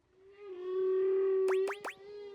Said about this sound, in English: Track 3, Song of the Sperm Whale.